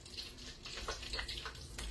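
Drops of water flicked onto a hot mobile-eatery griddle, giving a short, close hiss and sputter that crackles unevenly for about two seconds.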